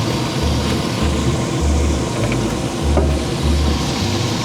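Burgers sizzling on a Pit Boss grill griddle while being flipped with a Pit Boss Big Head spatula, a steady loud crackling hiss with a low rhythmic rumble beneath and occasional faint scraping, no voices.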